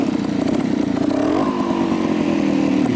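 Motorcycle engine revving steadily higher as RPM builds before the clutch is popped for a nose wheelie, a loud continuous close-up drone that rises in pitch partway through and holds, with no talk over it.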